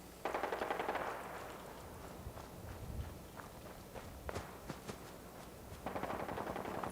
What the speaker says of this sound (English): Somebody shooting at us?